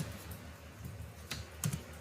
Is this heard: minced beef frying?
no